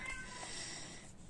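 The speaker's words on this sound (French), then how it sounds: "j'ai un chat qui a envie de gueuler" A house cat meowing indoors, a faint, drawn-out cry heard quietly in a room with no talk over it.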